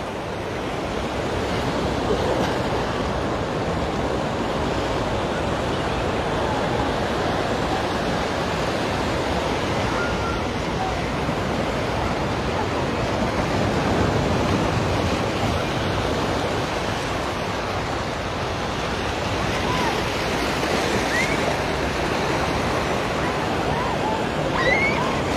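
Ocean waves crash continuously against a seawall at Waikiki, Hawaii, at high tide, a loud, steady roar of surf and spray close by, with some wind buffeting the microphone.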